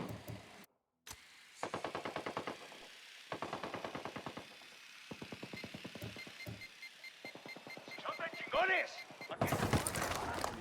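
Turret machine gun in Ghost Recon Wildlands firing in repeated rapid bursts separated by short gaps, loud and close, with a voice breaking in near the end.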